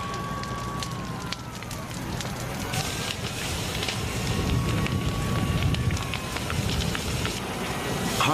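A destructive wildfire burns at Harmony Grove near San Diego in southern California, giving a constant roaring rush with crackling, wind-like noise and a faint wavering tone in the background, no voices heard.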